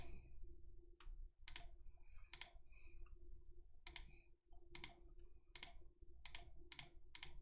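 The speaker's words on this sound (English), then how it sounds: "Look at all this clicking, chat." Sharp computer mouse and keyboard clicks come in quick bursts and single taps during a game, close and fairly crisp over a steady low background hum, with no talking.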